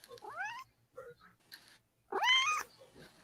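A cat meows several times up close, a drawn-out rising cry, some short softer mews, then a louder stretched meow near the end, with quiet room noise between the calls.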